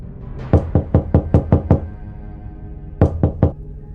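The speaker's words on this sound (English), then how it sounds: "just a slow, quiet tapping on the door" Slow, quiet knocking on a door: two sets of soft taps, seven then three, evenly paced and close, with silence between.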